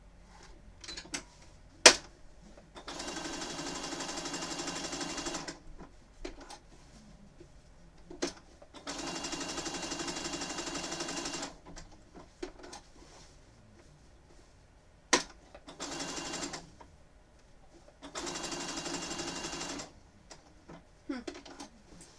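A sewing machine stitches appliqué letters onto a Pokémon quilt in four steady bursts of rapid mechanical whirring, each several seconds long, separated by pauses with clicks and soft handling noises, fairly quiet throughout.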